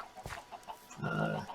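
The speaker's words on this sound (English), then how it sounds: "As well as chicken farm." Chickens on a Minecraft chicken farm cluck in a video game, with short soft clucks followed by a louder, drawn-out squawk, close and alone with no talk.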